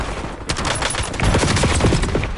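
Rapid automatic gunfire from Call of Duty Warzone rattles in dense, loud bursts, shots overlapping in a continuous fusillade with no talking.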